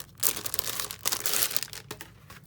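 Plastic wrapping around a sticker pouch being crinkled and torn open up close, a burst of crackly rustling followed by a second longer crinkle and a brief tear, with no one speaking.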